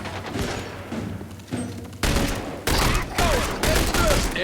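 Heavy gunfire in The Bureau: XCOM Declassified, a rapid volley of loud overlapping shots and booming blasts in bursts, with a few faint voices under the fire.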